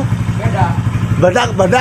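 A Honda Vario scooter fitted with a copy CMS aftermarket exhaust, its engine droning steadily under a man's speech before a couple of sharp revs near the end.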